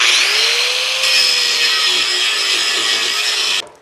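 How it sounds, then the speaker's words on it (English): A metal part being ground off with a hard stone on a rotary power tool, giving a loud, sustained high whine with a slowly shifting pitch that cuts off abruptly near the end, with no talking. "Now I'm going to take and grind this off of here."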